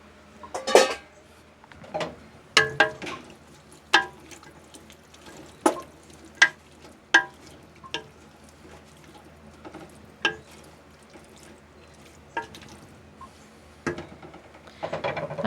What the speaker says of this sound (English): I'm going to go ahead and add the tomatoes